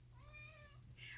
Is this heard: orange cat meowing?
yes